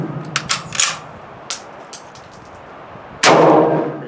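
A 1935 Tula-made Mosin Nagant M91/30 rifle fires a single loud, close shot with a sharp crack and ringing tail, preceded by several lighter metallic clacks of the bolt being worked.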